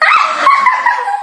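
A dog barks and yelps in short, loud, high-pitched bursts that run close together across the moment, with some whimpering tone mixed in.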